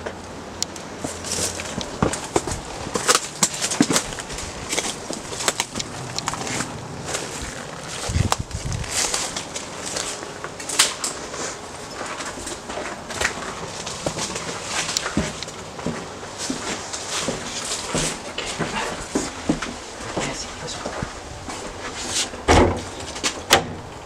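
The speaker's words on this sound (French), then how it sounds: "on va devoir enfoncer la porte" Someone forces open the door of an abandoned house with a run of heavy thuds, bangs and creaks scattered across the whole stretch, fairly close, with no talking.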